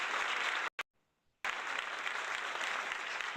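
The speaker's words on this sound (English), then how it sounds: "We are clapping, clapping, clapping." A group of people clap steadily in a dense, even patter, broken by a short dropout of near silence before the clapping resumes.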